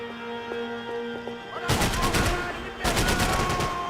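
Machine gun fire in Max Payne 3 on maximum difficulty erupts suddenly in two dense, loud rattling bursts after a quieter stretch of background noise.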